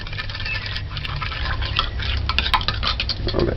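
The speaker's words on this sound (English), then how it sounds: "Stir the sugar in." A utensil stirs sugar and oil into cornbread batter made with coconut milk in a bowl, producing close, continuous scraping and wet sloshing with light clinks against the bowl.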